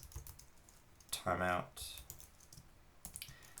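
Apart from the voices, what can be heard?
typing on a computer keyboard while writing code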